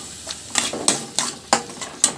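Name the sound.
stirring mushroom gravy after adding paste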